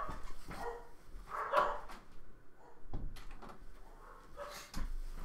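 Several dogs barking in bursts around a house as a door closes, somewhat distant and muffled, with scattered knocks and thumps between the barks.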